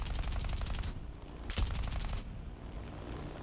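Aircraft machine guns firing in War Thunder at high altitude, a rapid rattling stream of shots, then a pause broken by one sharp crack, followed by a softer, lower hum.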